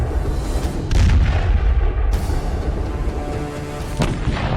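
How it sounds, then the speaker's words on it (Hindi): Heavy artillery shells from Indian Army guns strike Pakistani posts, booming repeatedly, deep explosive thuds landing in succession over a rumbling, roaring background. "भारतीय सेना के गोलों ने ऐसे पाकिस्तानी पोस्ट पर कहर बरसाया"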